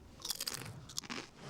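Deep-fried, artificially flavoured crisps crunched between the teeth in a quick burst of crisp bites with chewing, close and fairly quiet, with no voices.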